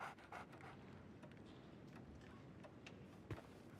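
A dog panting in the game Sherlock Holmes: The Awakened, quick soft breaths repeating in a steady rhythm, faint and close under low game ambience, with a brief thump near the end.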